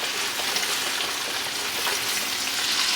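Pork chops frying in a hot pan give off a steady, dense sizzle with crackling spatter, close and loud, running unbroken for the whole stretch with no voices.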